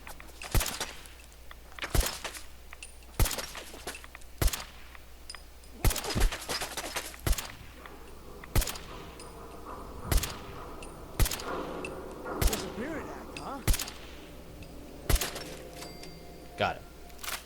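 Sharp, loud gunshots ring out at a steady pace in Fallout 4, about a dozen single cracks spaced a second or so apart, with a player's voice faintly talking between them.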